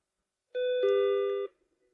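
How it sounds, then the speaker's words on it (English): A small bell above a shop door rings once with a bright, sustained chime that lasts about a second before cutting off, heard clearly on its own in a quiet room. "A small bell rang above my head."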